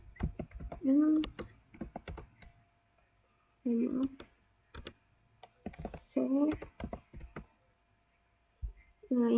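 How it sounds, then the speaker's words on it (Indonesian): Rapid keystrokes on a computer keyboard while entering switch commands in a network CLI, coming in short bursts of clicking between stretches of talking. "kemudian kita ketikkan switch port, kita enter."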